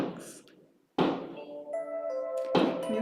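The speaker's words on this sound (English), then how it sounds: "fireworks." Distant New Year fireworks send sudden muffled bangs, two sharp bursts a second or so apart, heard faintly beneath a person talking.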